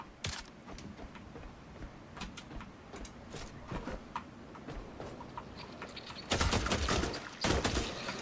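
A gun firing in The Last Caretaker, heard as a run of sharp, clicky shots spaced irregularly, fairly close, with a louder burst of rapid shots near the end and no talk.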